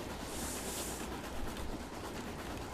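A steam train rolling along in Train Simulator 2020 on a Great North of Scotland route, a steady rumbling clatter of wheels and carriage noise, continuous and fairly faint.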